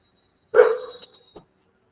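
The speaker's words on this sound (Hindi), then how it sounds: "ढेर कुत्ता है सर" A single sharp dog bark close by, followed by a faint short yip, then silence.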